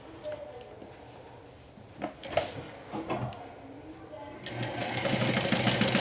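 A sewing machine sews down folded vinyl, starting with scattered clicks and handling knocks, then building into a continuous, louder stitching whir over the final seconds.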